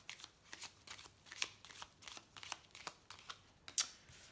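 Tarot cards shuffled and riffled by hand, a run of soft crisp flicks and slaps in uneven bursts, close and fairly quiet, with no talking.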